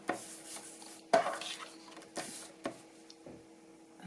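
Paper for a scrapbooking album is cut with a few short scraping slices and sharp taps on a table, separated by brief pauses, close and quiet with no voices.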